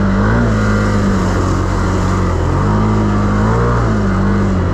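A 2025 Can-Am XMR ATV engine labours in low gear through deep water, a loud steady drone with rising and falling pitch as the throttle shifts, up close and drowning everything else.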